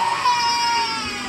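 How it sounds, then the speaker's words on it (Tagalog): Close, high-pitched infant crying from the speaker's young niece or nephew, a steady wailing cry running through the whole short moment with no other voices. "Narinig yung umiiyak, pamangkin ko po yun."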